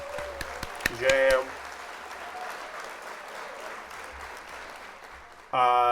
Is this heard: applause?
yes